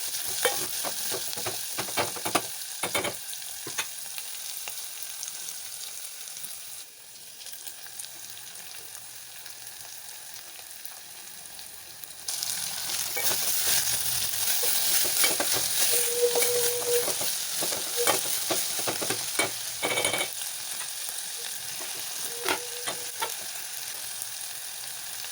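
Chopped onion, chilli and tomato sizzle and fry in a pan for an Uttara Karnataka breakfast dish, with repeated scraping stirs and clinks of the spoon over a steady frying hiss, no voices.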